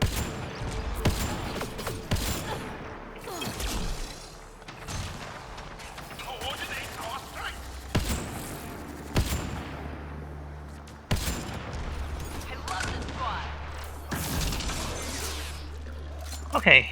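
Gunfire in the sci-fi shooter Mass Effect Andromeda, played on Insanity difficulty, with sharp shots scattered across the stretch amid rumbling game effects and spoken commentary over the top.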